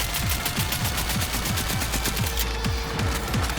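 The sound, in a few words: Panzer machine gun fire in Cyberpunk 2077 video game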